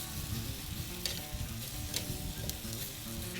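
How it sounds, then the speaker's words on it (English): Butterflied chicken drumsticks sizzle skin-side down on a grill grate over direct coals, a close, steady crackle with scattered sharper pops. "I'm going to take my grill grate and just spin it over those direct coals"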